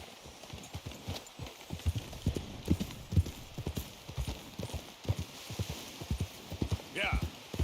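Horse hooves galloping in Red Dead Redemption 2, a rapid, steady clip-clop close up that runs throughout, with a brief whinny near the end and voices talking over it.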